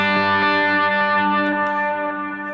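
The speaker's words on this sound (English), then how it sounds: "the hybrid picked note on the B string just sounds slightly different" A single electric guitar note on the B string plucked with hybrid picking through effects, ringing out with a sustained decaying tone, loud and alone.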